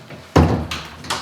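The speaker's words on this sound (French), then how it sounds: "C'est comme ça qu'on ouvre une porte." A door is opened with a sudden loud thump or clunk, followed by a softer knock about three quarters of a second later, close by with no talk.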